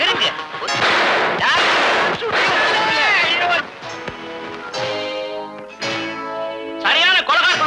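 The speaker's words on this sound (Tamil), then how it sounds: "அது அவனுக்காகவே தயாரிக்கப்பட்ட குண்டு" A bomb blast in a Tamil drama scene sends out a loud, dense roar of rumbling bursts, mixed with frantic shouting and crying voices that continue as the noise surges and fades.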